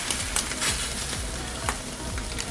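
An egg white French toast sandwich sizzles steadily in a hot pan just after being flipped, with a crackling hiss and occasional scraping clicks, close and without speech.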